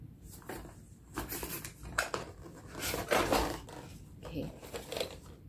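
Packaging for an Aura SSD upgrade kit for a MacBook Air being opened, with irregular crinkling, rustling and clacking of box and plastic, close and moderately loud, interspersed with brief pauses.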